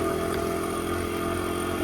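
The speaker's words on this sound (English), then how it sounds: "I've never gone through here before on my dirt bike." A dirt bike engine runs in a steady, continuous drone at a constant level, close and fairly loud, with no pitch swings and no voices.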